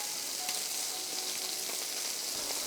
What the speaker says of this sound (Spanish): tenemos esta sartén súper caliente también y aquí vamos a dorar nuestros mariscos